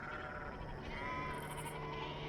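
Sheep and goats of a flock grazing in wilderness near Mount Horeb bleat softly, a wavering drawn-out cry rising over a low ambient bed, fairly distant and without talking.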